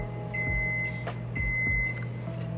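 Kitchen oven sounding two steady electronic tones a second apart to mark that preheating is done, over a constant low appliance hum and rumble.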